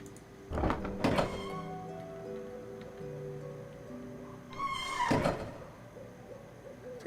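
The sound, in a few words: obnoxious door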